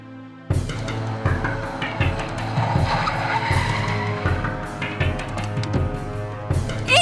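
A car drives fast and skids with sustained screeching tire squeal over a steady engine roar, loud and close, starting abruptly with repeated squeal bursts throughout, in a Hindi-dubbed South Indian film scene.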